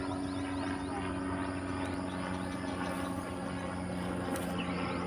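Helicopter flying overhead near Butuan Airport, a steady low droning rotor hum with a constant tonal whine, holding at moderate distance throughout without talk.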